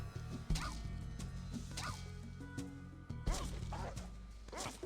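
In the Fallout 1 video game, the dog Dogmeat fights amid barks, yips and sharp hitting and crashing impacts, several loud bursts in quick succession over a busy, noisy game mix.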